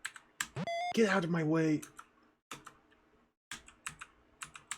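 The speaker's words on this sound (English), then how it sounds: "I'm wasting my energy smashing my F button on the keyboard." Rapid, repeated pressing of the F key on a computer keyboard while playing a dungeon game, sharp clustered clicks coming in bursts, with a short synthesized game tone and a brief spoken line from a nearby voice.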